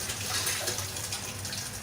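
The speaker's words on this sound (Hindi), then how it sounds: "पानी के साथ वॉश कर लूँगी" A handful of barley grains washed under running tap water, giving a brief, soft, continuous gush with light splashing and no voices.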